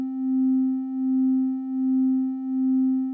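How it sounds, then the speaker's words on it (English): Two VCV Rack oscillators play a C note as a pure, steady sine tone that swells and dips in a slow, regular beating pulse, alone and without voices. "They are both making a sound that we perceive or that we categorize as the C note"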